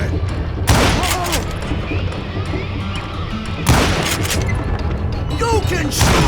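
Gunfire from the video game Call of Juarez: Gunslinger comes as two loud bursts of shots with booming echoes, set against steady game ambience and scattered character voices.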